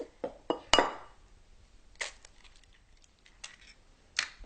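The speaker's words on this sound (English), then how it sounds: "Put the eggs, lightly beating them, just to give them a head start" Three eggs lightly beaten in a bowl with a utensil, giving sharp clinks and clicks against the bowl: a quick cluster of taps at the start, then sparse single strikes spaced out, close and fairly quiet with no talk.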